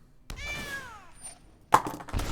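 A cartoonish cat meow from a token in MTG Arena, the digital card game, rising and falling once with a clear, near tone, followed by a brief burst of game sound effects.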